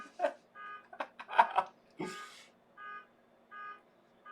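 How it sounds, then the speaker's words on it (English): A car alarm goes off somewhere in an apartment complex, repeating short bursts of electronic honking and tones, fairly distant and unsteady, interspersed with quiet gaps. "there is a car alarm going off in my apartment complex"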